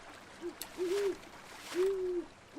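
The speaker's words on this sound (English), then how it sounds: "A large owl seems to be watching you." A large owl hoots inside the Colossal Cave video game: a few soft, low, drawn-out hoots spaced apart over a faint trickle of water, with no talk.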